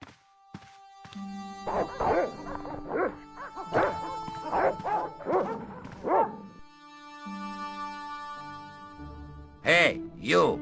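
Guard dogs in the Broken Sword: Shadow of the Templars Director's Cut adventure game at the Villa de Vasconcellos bark in several close, loud bursts, with game dialogue and music between them.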